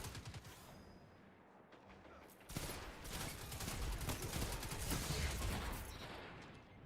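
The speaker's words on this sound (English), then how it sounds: "I'm getting shot in the back while the teammate stands there." Rapid gunfire in a shooter video game, dense bursts of automatic shots that crackle continuously and grow heavier partway through, with no voices over them.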